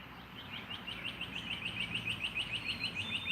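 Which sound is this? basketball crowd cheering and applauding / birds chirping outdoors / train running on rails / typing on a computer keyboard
birds chirping outdoors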